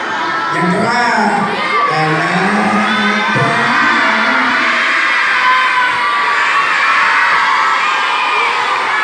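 Children and grandmothers in a storytelling audience at a Nuzul Quran event shout together loudly and continuously, a dense, close crowd roar with excited whoops and no pauses.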